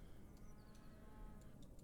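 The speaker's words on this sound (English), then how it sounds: "I hear a cow." A cow moos in a farm setting within the game Deconstruction Simulator, a low drawn-out call heard faintly under steady background noise.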